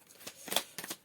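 Tarot cards being shuffled and drawn produce a soft, quick papery riffle with a few crisp flicks, close and quiet, with no talking.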